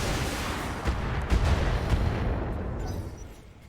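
BattleTech mech weapons fire in a few heavy booming bursts over a rumbling battlefield roar, the din tapering off toward the end.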